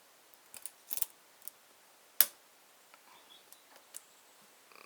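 Small, sharp clicks from a lock pick working the pins of an Abus 83AL/45 padlock, scattered irregularly and close, with one louder snap midway and faint ticks and scrapes in between against near silence.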